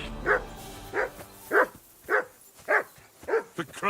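A dog barking in the video game Kingdom Come: Deliverance II, six or seven sharp barks at a regular, roughly half-second pace, close and loud with no talk.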